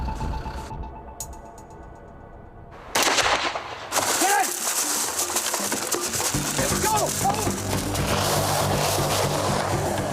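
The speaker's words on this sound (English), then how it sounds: "one of the Mostovian police officers accidentally fires his weapon." A police officer's weapon goes off accidentally: a quiet moment is broken by a sudden loud shot, followed by sustained sharp, crackling bursts that continue to the end.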